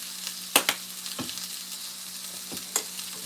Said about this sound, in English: We'll stir around a little bit.